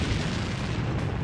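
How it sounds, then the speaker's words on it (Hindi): A Lancet loitering drone slams into a tank in wartime, giving a loud, continuous roaring blast with heavy low rumble that holds for just over a second, close and dense, with no voices. "रूस ने इसे फौरन टारगेट पर लिया और फिर इस टैंक से आ टकराया"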